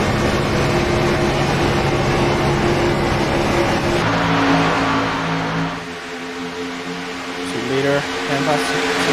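Race cars roar past at Talladega during the Davis Brothers Roofing 250, a loud, continuous engine drone that shifts pitch as cars pass and fall back, with a brief dip and renewed surge near the end.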